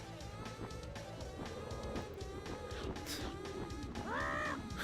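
A bird in Donkey Kong 64 gives a short, rising-and-falling chirping call near the end, heard over busy in-game music and background effects.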